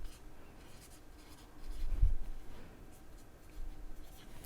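An orange colored pencil writes notes on paper, soft scratchy strokes close by with a slightly louder burst of scribbling in the middle, quiet room, no talking.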